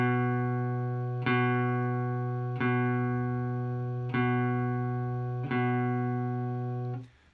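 Guitar B note fretted at the second fret of the A string, picked four times in a steady pulse, each strike ringing on into the next, close and clean before fading out at the end.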